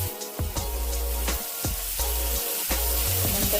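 Finely chopped cauliflower sizzles in a hot pan, a steady frying hiss broken by repeated scraping and stirring strokes of a spatula, close and clear with no talking.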